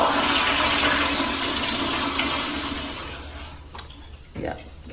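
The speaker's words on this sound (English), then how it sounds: "Cam just flushed the toilet" A household toilet flushes with a loud rushing of water that gradually subsides as the tank refills, ending in a few faint clunks and gurgles, with no voices over it.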